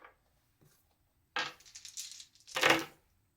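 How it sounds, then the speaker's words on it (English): Dice rattle and clatter onto a table during a tabletop wargame, two quick bursts of small hard knocks close by, with no talk. "Let's clear some dice"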